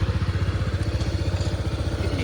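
A motorcycle engine runs close by with steady rhythmic pulsing and a rising rev, loud and continuous with no talking over it.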